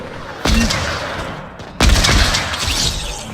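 Gunfire in a Creative-mode video game, two loud sharp blasts each trailing into a rattling, echoing tail, close and dominant with no voices.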